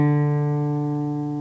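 A single guitar D string is plucked and rings alone, a steady clear tone decaying gently.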